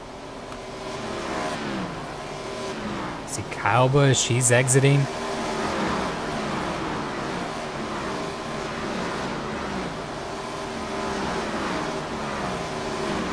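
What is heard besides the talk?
race cars driving down pit lane in iRacing video game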